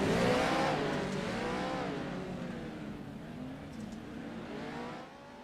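Race cars circling the track at Weedsport before the green flag, engines rising and falling as the pack roars past and fades, with one loud pass near the start and a steady drone afterward.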